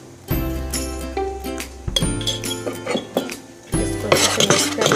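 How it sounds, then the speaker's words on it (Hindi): Salt stirred into fermented brown rice idli batter in a metal vessel, with repeated close clinks and scraping of a spoon against the pot in bursts, fairly loud and without talk. "इसको अच्छे से मिक्स कर लेंगे।"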